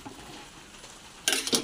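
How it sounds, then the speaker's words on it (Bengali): Semolina halwa is stirred in a pan: after a quiet stretch, a sudden burst of scraping and rustling arrives close and fairly loud near the end. "এই যে এটা এখন এগুলো একটু এভাবে করে নাড়াচাড়া করি, এটা নামিয়ে নেবো"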